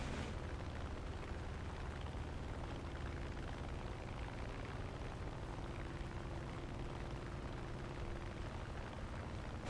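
Anti-aircraft fire in War Thunder, a faint, steady, dense rumbling roar of distant flak bursts that runs continuously throughout with no distinct individual shots and no voices.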